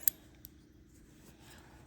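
Scissors snipping threads off a sewn bag at a sewing machine, two crisp metallic clips close by, the first sharper than the second, then a quiet room.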